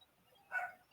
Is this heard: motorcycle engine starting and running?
no